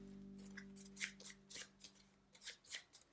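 Game cards are shuffled by hand in a quiet room, with a run of soft riffling and sliding bursts in uneven rhythm, close and faint, over a low steady hum.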